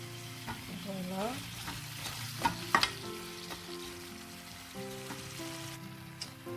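A spoon stirs potato and yam soup in a cooking pot, with wet sloshing and scraping strokes against the pot over a low bubbling background, close and moderately loud.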